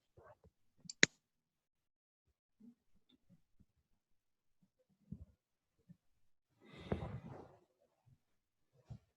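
A single sharp mouse click opening a web start page, heard once early on amid quiet room noise, with a few soft thumps and a brief rustling burst later.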